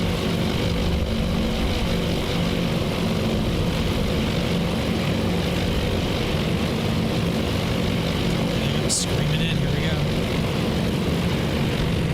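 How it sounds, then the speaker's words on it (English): Yorktown's carrier planes in Task Force Admiral at the Battle of Midway, a loud, continuous propeller engine drone that holds steady, with a brief sharp click near the end. "This is all Yorktown's planes right now."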